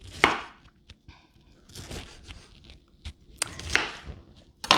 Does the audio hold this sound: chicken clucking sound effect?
no